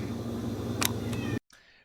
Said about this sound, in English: My cat is crying like a little girl.